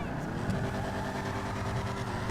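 A car driving in the GTA video game, a steady engine drone with a faint rhythmic whine running throughout at constant loudness.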